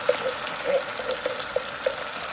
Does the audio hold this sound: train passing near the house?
no